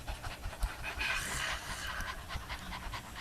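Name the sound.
people panting like a dog in a breathing exercise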